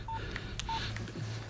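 Touch-tone phone keys beeping as a number is dialed to call the police, a few short separate tones over a low room hum, with no speech.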